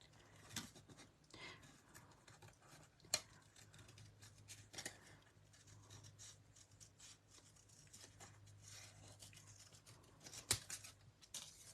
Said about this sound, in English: Let's cut this sentiment out.